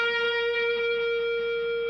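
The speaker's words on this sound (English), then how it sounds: "That allows me to play a harmonic on the 15th fret." A guitar sounds an artificial harmonic at the 15th fret with the 3rd fret held, ringing as one bright, sustained tone that holds steady, close and alone.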